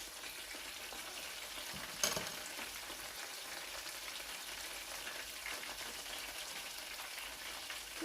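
Chicken strips deep frying in very hot oil, a steady dense sizzle and crackle holding close and even throughout, with one brief louder spatter burst near the start.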